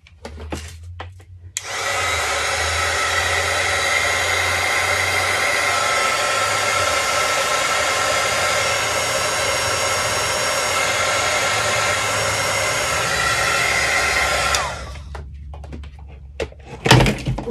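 A hair dryer or heat tool blows steadily over wet paint on a faith-themed collage, a loud, even whoosh that runs for about thirteen seconds and then cuts off, with faint handling clicks before and after.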